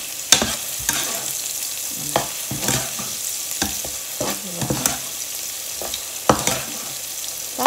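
Ginger sizzles in a hot pan while being stir-fried, sharp scraping strokes of a spatula cutting through the steady frying hiss at uneven intervals, loud and close.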